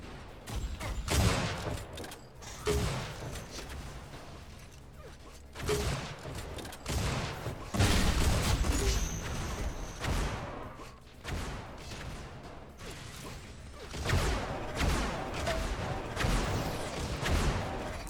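Rapid weapon fire trades back and forth in an Unreal Tournament match, with repeated sharp bursts and booms of varying loudness across a long, busy stretch of combat.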